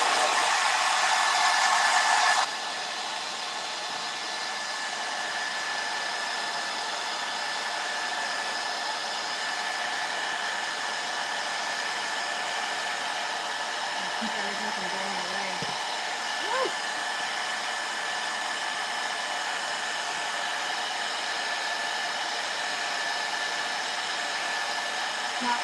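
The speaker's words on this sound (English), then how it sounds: "let me go ahead and blow dry this super fast, guys" A blow dryer runs steadily on a Christmas home decor craft, a loud, continuous whirring rush that holds almost unbroken for the whole stretch, with only a faint knock partway through.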